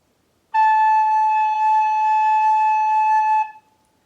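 A recorder sounding a single sustained A note, pure and steady with a clean onset and a slight tail-off, close and alone for about three seconds with silence before and after.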